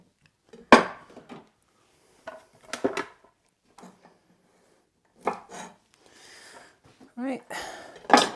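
Knife chopping through green beans on a cutting board, a series of crisp taps in irregular small bursts with pauses between, close and clear, with occasional quiet movement sounds.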